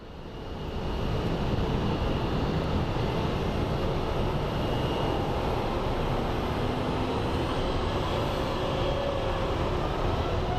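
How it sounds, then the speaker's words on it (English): A Colorado One special-livery airliner lands at Phoenix Sky Harbor, giving a steady, loud broadband jet roar that swells in and holds continuously throughout, with no talking. "We have Colorado 1 coming in for a landing."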